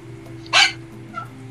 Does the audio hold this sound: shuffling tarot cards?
no